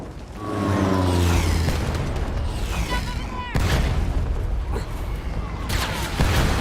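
Bomb explosions in an Indiana Jones video game set in Giza: a series of loud booming blasts with rumbling debris and mechanical clatter, sharp bursts recurring over several seconds.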